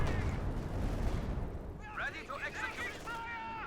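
A Stuka dive bomber barrage in Company of Heroes 2, with heavy booms and explosions rumbling at the start, then crackling debris and chirping game effects under a commentator's voice.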